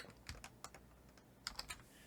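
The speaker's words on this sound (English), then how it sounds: "Now I'm using keyboard shortcuts." Keyboard shortcuts typed on a computer keyboard: a handful of soft, crisp key clicks in short clusters, quiet and close, with no talk.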